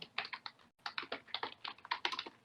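A computer keyboard is typed on in a steady run of close, clicky keystrokes with one brief pause, quiet and with no one speaking.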